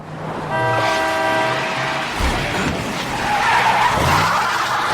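A car skidding on a road during a movie stunt scene, a loud sustained screech with engine noise that swells midway and stays forceful to the end, no talking.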